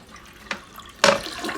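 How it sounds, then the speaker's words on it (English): Toilet flush with the handle held down as a dual-flush toilet tank empties, a short burst of rushing water after a brief gurgle, fairly close and alone. "you're going to flush the toilet, holding the handle till all the water comes out."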